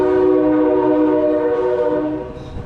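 A loud train roars past close by, its horn blaring in a steady sustained tone that holds strong and then begins to fade toward the end, with no talking over it.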